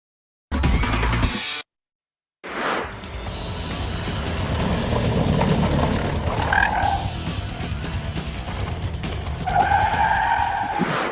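A car skids while understeering through a curve, with sustained loud tire noise and squeal building after a brief cut, the scrubbing rising into sharper squeals near the end.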